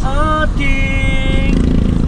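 A motorcycle engine hums loudly and steadily nearby, its whining tone shifting pitch briefly, with a faint voice in the background.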